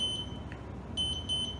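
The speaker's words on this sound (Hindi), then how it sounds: "तो कोई भी सिलेक्शन जो 2 बार ब्लिंक करके बीप कर रहा है वो इस सर्टेन प्रोग्राम में पॉसिबल नहीं है" A front-load washing machine beeps on an invalid selection: a double beep, a pause, then another run of beeps, high and clear over faint background noise.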